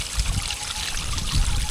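Mountain water rushes steadily along a stream, a close, continuous broadband wash with low gurgling swells, no voices over it.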